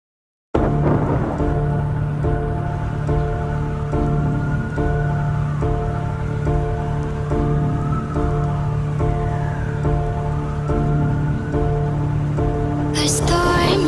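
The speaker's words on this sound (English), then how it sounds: "A storm is coming." A thunderstorm with steady heavy rain pours continuously, a low rumble of thunder rolling underneath, ending with a sharp sudden crack.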